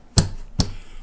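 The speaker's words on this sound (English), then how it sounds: "It's the sound of the metal strings bouncing off the frets." A palm smacks the metal strings of an acoustic guitar against the frets twice, sharp percussive snare-like chucks about half a second apart, close and dry with nothing else around.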